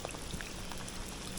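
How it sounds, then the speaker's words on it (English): Heavy summer rain pours down on Marco Island, Florida, under sunshine, making a dense, steady hiss of drops with no voices. "It is sunny and it is raining, and it's actually even raining pretty heavily."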